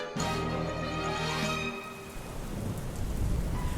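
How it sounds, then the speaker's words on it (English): A thunderstorm, opening with a deep, close rumble of thunder that fades into a steady, dense hiss of heavy rain. "A storm unleashed its fury over Viridian City"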